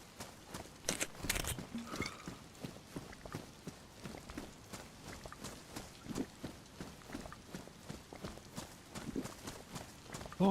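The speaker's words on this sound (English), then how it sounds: "I thought I heard some footsteps." Steady, rhythmic footsteps crunch along in the DayZ video game, a continuous run of regular soft thuds at close range with a couple of sharper knocks early on.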